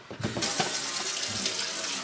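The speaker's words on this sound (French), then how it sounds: "Faut juste que je remplisse le réservoir d'eau." Tap water runs hard into a Nespresso coffee machine's water reservoir, a loud close steady splashing rush with no talking.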